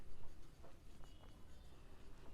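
Pen scratching on paper in short strokes during a maths lesson, faint and close, with soft irregular scribbles and no talking.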